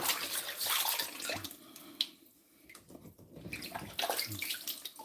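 Celery leaves being washed in water for juice, with splashing and sloshing that rises and falls, briefly quieting in the middle before picking up again, close by and with no talking.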